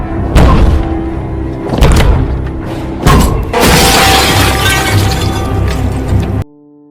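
In a scene from the 2017 horror film Leatherface, a head is smashed into glass: loud thuds and booming impacts build to a long, crashing burst of breaking glass, then cut to near silence.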